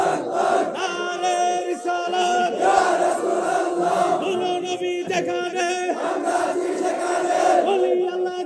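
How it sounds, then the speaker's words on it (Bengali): A large crowd chanting a slogan in unison at a religious gathering, loud, massed voices rising and falling in repeated rhythmic phrases over several seconds. "একটু হাত তুলে স্লোগান দেন।"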